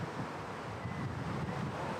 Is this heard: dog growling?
no